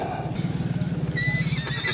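A horse neighs in a long, shaking whinny close by, with a rapid pulsing rhythm through most of the call and brief higher squealing toward the end.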